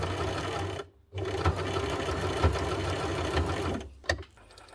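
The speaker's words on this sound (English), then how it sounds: "It'll make a thumping noise each time it goes over to the left side." A basic home sewing machine runs steadily while stitching a blind hem on fabric. Its motor hum is broken by a short pause, and a thump sounds each time the needle swings over to the left stitch.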